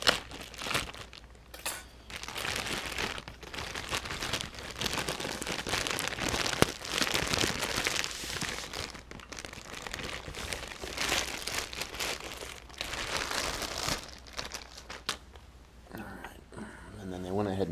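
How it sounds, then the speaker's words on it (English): A plastic bag crinkles and rustles steadily while being popped open during a Pyle car head unit repair, crisp crackling bursts close up, with a voice talking over and between the noise. "we'll pop this bag open so we can try and"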